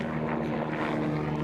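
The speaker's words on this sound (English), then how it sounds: "Chopper overhead." A helicopter flies overhead as a steady low droning rumble, heard alone without any voices.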